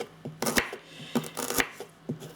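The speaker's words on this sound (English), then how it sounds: "cut another tablespoon of ginger" A knife chops fresh ginger, skin and all, on a cutting board with sharp, close, irregular thuds, about half a dozen strikes in quick succession.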